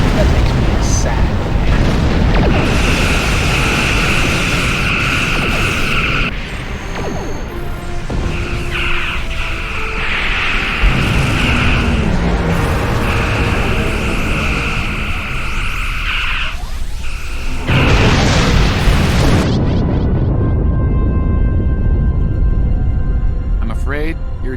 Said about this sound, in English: Your ship was destroyed in combat while protecting the retreat of Admiral Garrett's forces